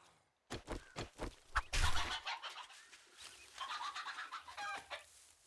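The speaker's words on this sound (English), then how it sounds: "Oop, there's a chicken." A chicken in the survival video game 7 Days to Die clucks and squawks in a busy run of short bursts, fairly close, with scuffling thumps mixed in and no talking.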